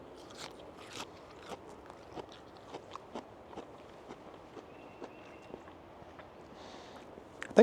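Broccoli being chewed close up, a series of soft, crunchy bites at an irregular rhythm, faint and alone with no talking.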